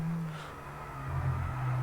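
Formula 1 car engine in the F1 22 racing game, a steady low droning hum that swells slightly toward the end, moderately loud and continuous with no talk over it.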